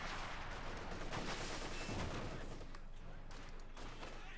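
Dense, rattling gunfire and explosive bursts from a Company of Heroes 2 match, Oberkommando West against Soviet forces, sustained and busy across the whole stretch, with a commentator's voice faintly under it.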